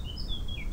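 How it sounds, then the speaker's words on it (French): A bird sings next to a window, its high thin whistled notes gliding in a few short phrases over a steady low indoor hum, close and clear. "Il y a un magnifique oiseau qui chante à côté de ma fenêtre."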